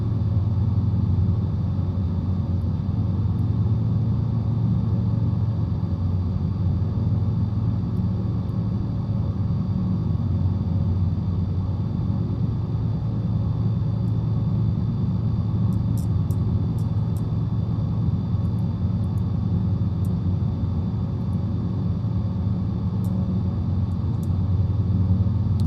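Steady low droning rumble of an airplane engine in Flight Simulator 2020 during a bush trip, a constant loud hum held evenly throughout with no talking.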